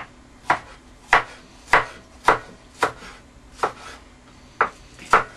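Knife cutting vegetables on a cutting board for chicken mushroom egg fu yong, nine crisp evenly spaced chops close up, with no talking.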